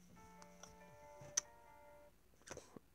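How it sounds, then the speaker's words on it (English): A phone alarm tone, a remix, plays as a short synthesized melody of sustained electronic notes with a few sharp clicks, fairly quiet and close. "That's my alarm tone."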